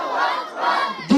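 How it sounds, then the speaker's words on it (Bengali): A crowd chants the slogan Naraye Takbir in unison, a loud, close, massed shout that swells at the end. "সবাই মিলে একই সুরে দাও না স্লোগান, নারায়ে তাকবীর"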